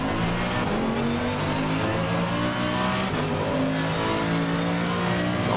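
Race car in Assetto Corsa Competizione, a 2015 Blancpain GT3 machine at Zolder, braking hard into a hairpin: a loud, steady engine drone with shifting harmonics as revs fall, continuous throughout with no voices.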